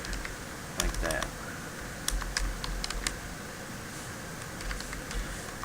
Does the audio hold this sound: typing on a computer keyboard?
yes